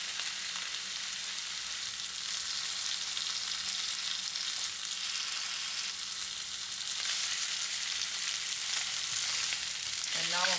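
Seafood sizzles steadily on a hot grill while being pressed down to cook faster, a continuous close crackling hiss that swells slightly toward the end.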